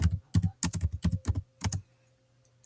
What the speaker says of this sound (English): I was typing Ella a message